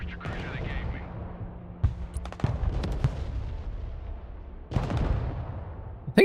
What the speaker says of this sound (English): Showing mortars on that building.